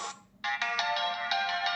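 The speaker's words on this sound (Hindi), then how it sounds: "और जो म्यूजिक है प्ले हो रहा है इस वॉच में" Short melodic electronic tones play from a Fire-Boltt Ring 3 smartwatch speaker, with a brief note, a short gap, then a bright repeating tune that carries on.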